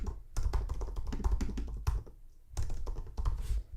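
Keys clatter on a computer keyboard as a comment is typed, a close burst of quick taps with a brief pause before a second burst, with no voices.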